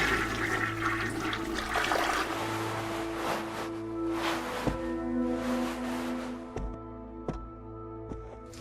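A toilet flushing in the video game Deus Ex: Mankind Divided: a loud, close, sustained rush and gurgle of water, joined by low hums and a few sharp thuds toward the end, with no talking.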